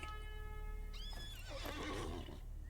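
Horse whinny in the online game Lord of the Rings Online: a sustained neigh with a rising squeal, then faint hoof clops over a steady game ambience.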